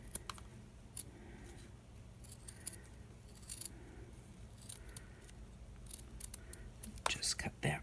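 Scissors snip through a handmade DIY craft feather in close, crisp, quiet cuts, coming in irregular bursts with soft whispery handling noise and a faint voice in the background.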